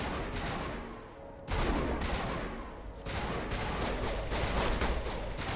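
Dense video-game gunfire, rapid bursts and single shots layered into a continuous fusillade with sharp cracks, loud and close throughout with no talking.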